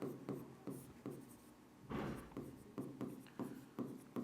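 A pen writing on paper, with close, rhythmic scratchy strokes in short bursts and brief pauses between them, alone and without speech.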